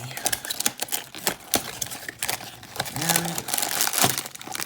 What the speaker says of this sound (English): Just tear you open. Why won't you tear open like a normal thing?